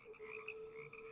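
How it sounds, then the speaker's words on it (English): Deep bullfrog croaks resonate from a swamp sewer drain, a steady droning call with a low hum beneath rising and falling throaty pulses, close and continuous with no talk. "The big bull frog sounds, and I'm talking about something emanating from something like the size of a cow"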